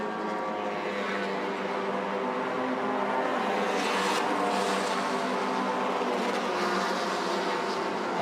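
MT1600 touring race cars at the 2025 Malaysia Touring Car Championship stream past on the circuit as the field completes a lap, a steady blended engine roar that swells slightly mid-way, heard from trackside at moderate distance.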